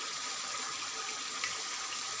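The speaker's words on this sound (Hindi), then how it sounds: "अब हम थोड़ा सा इसके अंदर पानी का छिड़का लगाएंगे ताकि जो हमारे मसाले इसमें डाले हुए हैं वो जल ना जाए।" Water sprinkled into a simmering chicken karahi with spices, a steady soft hiss and sizzle with no talking.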